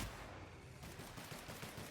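Gunfire in The Outer Worlds video game, a steady, dense burst of shots filling the moment with a continuous crackle and no talk over it.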